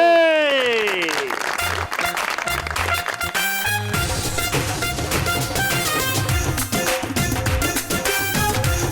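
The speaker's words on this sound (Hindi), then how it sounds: "प्लीज आपकी भरपूर तालियों में वेलकम" A musical sting sweeps downward, then a television talk-show studio audience bursts into sustained, lively applause that carries on to the end.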